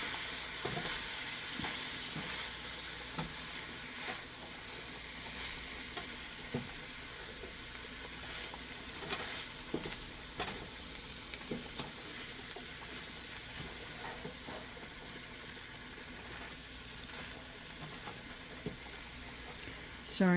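Chicken and vegetables stir-frying in a pan give a faint, steady sizzle with scattered crackles and occasional utensil clicks and scrapes throughout.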